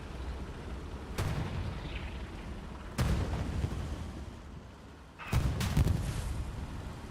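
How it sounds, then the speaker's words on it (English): Heavy gunfire and booming impacts in the World War II shooter Hell Let Loose, three loud separate blasts spaced a couple of seconds apart over a constant rumbling battlefield background, no voices. "Shots coming in up the main road."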